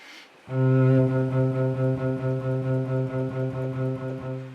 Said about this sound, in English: It sounds like a lot of staccato C notes,